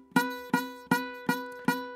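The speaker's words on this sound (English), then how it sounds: "if I fret it incorrectly, so I'm going to go all the way back here." Ukulele string fretted wrongly, far behind the fret wire, plucked five times at an even pace; each close, pitched note starts with a slightly buzzy attack and dies quickly.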